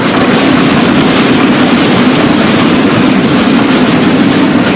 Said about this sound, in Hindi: वंदे भारत एक्सप्रेस के रूप में एक आधुनिक और सेमी हाई स्पीड ट्रेन भारतीय रेल का हिस्सा बन चुका है।